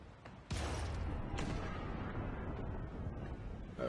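Ship cannons fire in Pillars of Eternity 2 during a naval battle, two sharp booming blasts about a second apart, each followed by a rumbling roll of noise that stays loud and continuous.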